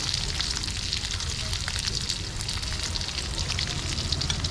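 Leftover fried rice frying in a pan, a steady loud sizzle and crackle of oil running without a break from start to finish.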